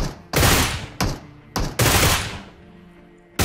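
Gunfire in PUBG Mobile: a handful of sharp, loud shots in uneven bursts, some doubled, each leaving a short decaying tail, with no voices over them.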